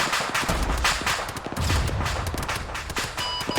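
A BMP armored vehicle firing in the military game Arma 3: a rapid string of sharp shots and bursts carries all the way through, with heavier low thumps mixed in, fairly close and loud, and no voices.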